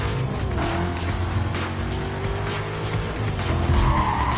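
Tires squeal and skid under heavy braking in Need For Speed Carbon as a drag-style race car slows to turn, a loud sustained screech over a roaring engine.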